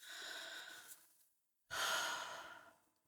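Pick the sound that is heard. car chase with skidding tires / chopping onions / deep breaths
deep breaths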